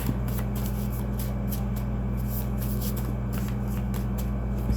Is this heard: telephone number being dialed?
no